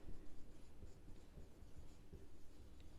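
A pen scratches across paper in short, quiet strokes, close and faint with a soft rhythmic scribble.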